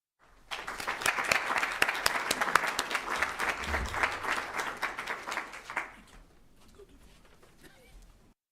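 A ceremony audience at an engineering investiture breaks into sustained applause, many hands clapping densely and steadily for about five seconds before thinning out into a quieter room.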